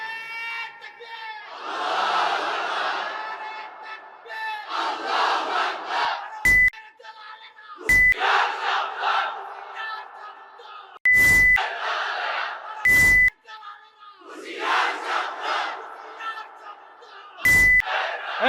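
A large crowd at a religious rally roars the Nara-e-Takbir slogan in repeated, swelling call-and-response shouts. Loud electronic beeps cut in several times between the chants.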